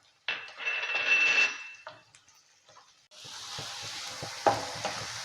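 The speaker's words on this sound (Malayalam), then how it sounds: "വെളിച്ചെണ്ണ കിടന്ന് ഉള്ളിയും വെളുത്തുള്ളിയും എല്ലാം കൂടെ അങ്ങോട്ട് പൊരിഞ്ഞ് വരുമ്പോൾ" Onion and garlic fry in hot coconut oil with a crackling sizzle, broken by a few clinks and stirring scrapes, then swelling into a loud, steady hiss after a short quieter stretch.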